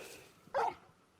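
A single short dog bark from the Final Fantasy 16 video game, brief and fairly faint against quiet game ambience.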